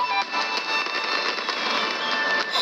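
Fireworks in the Genshin Impact video game fizz and crackle in a dense, continuous shower of sparkling pops, steady and fairly loud throughout.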